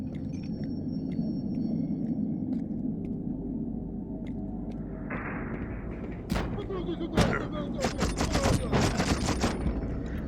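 A rapid-fire plasma rifle shoots in the video game You Are Empty, a steady run of clattering bursts over constant low game rumble, growing busier and sharper toward the end; someone talks over it.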